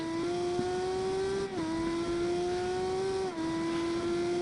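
Onboard, a V6 twin-turbo rear-wheel-drive race car with a six-speed gearbox laps a track at a winter event, its engine droning steadily at high revs with two quick upshifts, loud and close, no voices.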